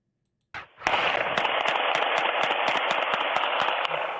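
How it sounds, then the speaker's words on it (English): Gunshots are fired into an elderly person's house in news footage, a rapid string of loud sharp cracks over a dense, sustained roar, going on for several seconds after a brief first burst. "And it was so many shots."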